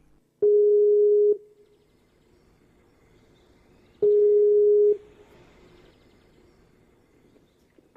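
Steady telephone ring-back tone, two long even beeps about three seconds apart, clear and fairly loud over a quiet line with faint background hiss, heard while a psychic radio show dials a caller.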